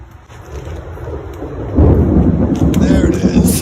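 Thunder from an approaching storm rumbles low and grows louder partway through, a deep rolling boom that swells and holds, with rain-like hiss in the background.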